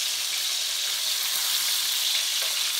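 Bacon frying in a pan, a dense, steady, crackling sizzle that stays loud and continuous throughout with nothing else over it.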